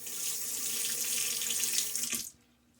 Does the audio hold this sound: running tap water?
yes